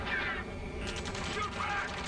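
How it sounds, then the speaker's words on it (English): A short, rapid burst of gunfire from Ace Combat 7, sharp repeated cracks in a quick rattle partway through, set against a constant low rumble of combat noise. "Taking fire! We're pinned down!"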